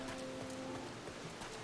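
Rain on a night in the video game Final Fantasy Online, a steady soft hiss of falling drops with faint pattering and a low sustained tone beneath, no talking.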